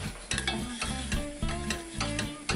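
Sugar and water being stirred in a pan on the heat, a close rhythmic scraping of spoon against pan repeated about four times over a soft bubbling sizzle, with no talking.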